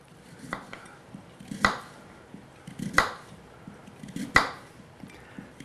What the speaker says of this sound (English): we want to slice up our potato